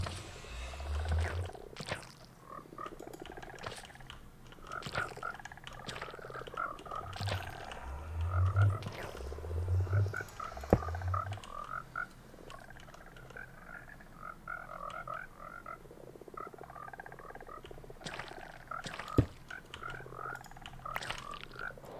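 Frogs in Minecraft give low, burpy croaks in small clusters over a steady ambient hum, with occasional clicks and soft game noises scattered throughout.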